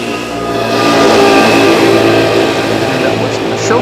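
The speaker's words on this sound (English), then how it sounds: "An Embraer 195 E2 from KLM." A KLM Embraer 195 E2 arriving at Amsterdam Schiphol Airport passes close by, a loud sustained jet roar that swells and holds steady across the pass.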